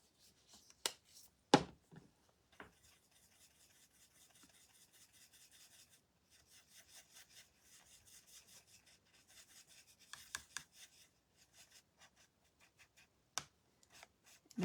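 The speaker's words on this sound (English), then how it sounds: "maybe I'll just use this and mix it a little bit with the white" Paintbrush working white paint into yellow on a palette: faint, close scrubbing strokes in uneven runs, broken by a few sharp taps of the brush.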